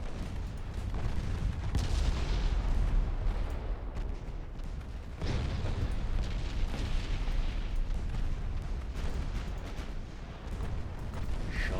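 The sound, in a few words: naval artillery gunfire from video game Ultimate Admiral Dreadnoughts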